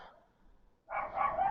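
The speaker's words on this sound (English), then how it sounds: "My neighbor's dog likes to bark a lot." A neighbor's small dog barks once or twice in a short, sharp burst after a quiet moment, muffled and at some distance.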